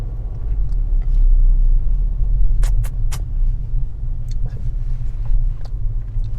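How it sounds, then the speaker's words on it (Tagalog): A car rumbles close by on the road, a heavy, steady low drone that holds for several seconds, with a few brief sharp clicks over it. "Oh, wait. May sasakyan."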